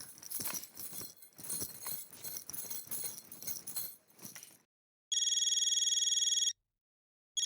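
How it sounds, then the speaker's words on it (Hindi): A telephone rings with a bright electronic ringtone, two clear bursts after a stretch of clattering, jangling activity; loud and close, with no talk over it. "दया भाभी का फोन"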